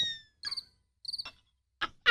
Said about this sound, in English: Crickets, where are you?